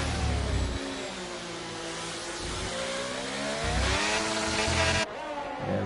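A racing car in a sim racing game accelerating hard at the Mexico round, its engine climbing in pitch through upshifts, loud and close, with no talk over it.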